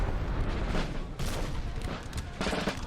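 Massed musket volleys in Napoleon: Total War multiplayer battle, a continuous loud crackle of overlapping shots with heavier bursts rolling in every second or so, dense and sustained throughout.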